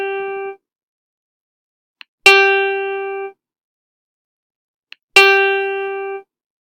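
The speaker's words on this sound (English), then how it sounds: "Any note placed on this line becomes G and sounds like" A single sustained musical note G, a bright harmonic tone, sounds three times in even succession, each ringing for about a second and separated by silence, with faint clicks before the later two.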